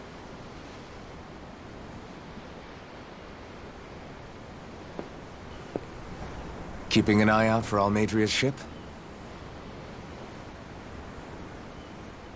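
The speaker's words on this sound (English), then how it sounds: "I'm looking at the ocean." Ocean waves wash steadily as a soft, distant surf hiss from the deck of a ship in the Tales of Arise game, continuing under one short line of spoken dialogue midway through.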